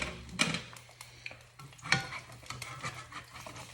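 An egg frying in a frying pan gives a soft, steady sizzle under occasional clicks and scrapes of a spatula against the pan, close and fairly quiet.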